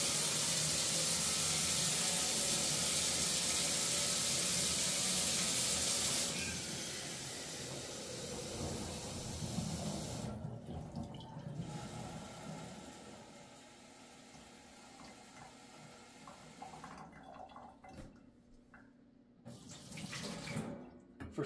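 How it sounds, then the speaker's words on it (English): Tap water runs steadily into a coffee pot at a kitchen sink, a loud broad hiss that changes pitch as the pot fills, then sputters and cuts in and out toward the end. "Let's go fill it up at the sink."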